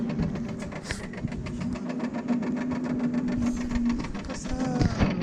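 A homemade electric rosalie pedal car's motor runs in first speed, humming steadily with a constant whine and rattling mechanical ticks throughout, fairly close.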